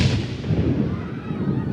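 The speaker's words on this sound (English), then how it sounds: "There's an explosion." A bomb blast erupts loud and close in one heavy burst with a low rumbling decay.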